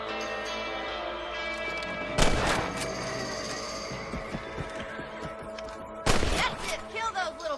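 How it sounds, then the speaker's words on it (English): Rifle shots aimed at rabbits in the Western game Red Dead Redemption: two loud, sharp cracks a few seconds apart, each followed by a decaying echo, over steady outdoor ambience and soft music. "Better at shooting rabbits than outlaws, I've seen."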